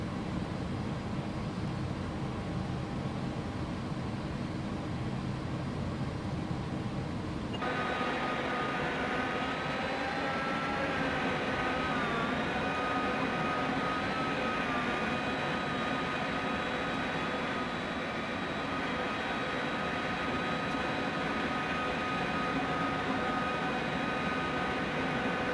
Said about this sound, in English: start the fuel flow on engine number 1 as well